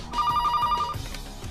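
A telephone bell rings in a short rapid burst of trilling strikes, clear and fairly close, then stops and fades out.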